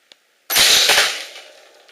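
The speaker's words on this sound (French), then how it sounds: "Tire sur une vieille PSP déjà bien amochée." A homemade coilgun fires a nail into an old, battered PSP: a small click, then one sharp loud crack that rings and decays over about a second and a half.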